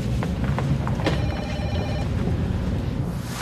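A telephone rings after a call is placed, a clear electronic bell tone that rises above a steady background murmur and lasts about a second.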